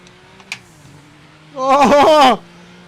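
Race cars in a video game roar past in one loud burst of high revving engines lasting under a second, preceded by a faint blip and low background hum.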